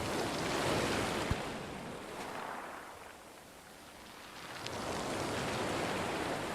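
Ocean waves wash onto a beach in a calm meditation soundscape, a steady broadband surf that swells, eases off in the middle, then rises again, with no voices.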